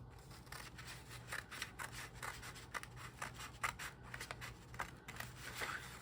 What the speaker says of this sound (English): So I'm just gonna go ahead and cut them out so that we can get the base of these trees on.